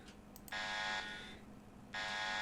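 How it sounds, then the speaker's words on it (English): An alarm blares in the game Bionic Heart, two loud, harsh, sustained buzzing blasts separated by a short gap, heard alone with no talking. "The piercing sound of the alarm is enough to break me free from my terror."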